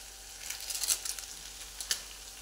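Boiled Maggi noodles are tossed into a frying pan with vegetables, and they sizzle and crackle steadily while being stirred, with scraping bursts from the mixing and no voices.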